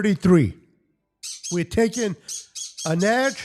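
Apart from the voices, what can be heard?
pet birds squawking in a cage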